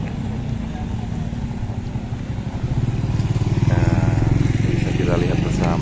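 A motorcycle engine putters close by and grows louder as the bike crosses a landslide-damaged national road, while someone talks over it.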